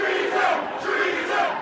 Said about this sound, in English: They were soon surrounded by an ever-increasing and boisterous crowd